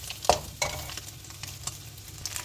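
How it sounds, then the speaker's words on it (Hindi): Garlic frying in the egg oil in a wok for chicken fried rice, a steady sizzle with a few sharp stirring scrapes and knocks close by, and no voices. "एग फ्राई करके हम जो है वो उसी ऑयल के अंदर लहसुन ऐड करेंगे और लहसुन को फ्राई करेंगे।"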